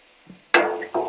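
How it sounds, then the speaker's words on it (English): Pork fat rendering on a Blackstone griddle gives a close sizzle with scraping and stirring, two loud bursts after a quiet start, each fading slowly. "start stirring up our pork fat that's on the pot and on the Blackstone. Just want to render this down"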